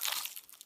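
A close, crisp bite into a slice of crunchy-crusted pizza, a brief crackling crunch that quickly tapers into faint chewing.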